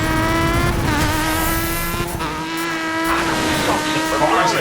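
Rally cars slide on loose surfaces in DiRT 2 with a loud, steady revving engine whine and squealing tires, a narrator talking over the racing throughout.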